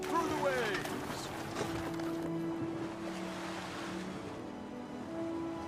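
In the Roman-era video game Anno 117, a ship cuts through ocean waves, a continuous loud rushing of water and wind with faint tonal game sounds layered in, no one speaking.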